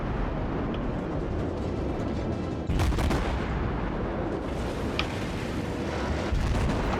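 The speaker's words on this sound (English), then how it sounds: "It's time to bring the rear guns into play here and just focus him down" Warship rear guns fire in World of Warships, a sustained rumbling barrage with a sharper heavy blast about midway, loud and dense.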